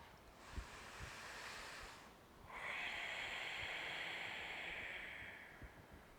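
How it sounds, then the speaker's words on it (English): Yogic ocean breath, a soft, airy rushing breath made through a slightly narrowed throat: one longer breath, a brief pause, then a second, stronger breath, quiet and close, with no talking. "Often described ocean breath, oceanic breath, Darth Vader breath."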